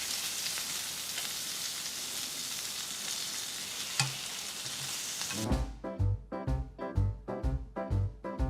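Food sizzles steadily while frying in a pan for a Japanese bento breakfast, a dense hiss that gives way to rhythmic clattering stirs and taps in the second half, with no talk.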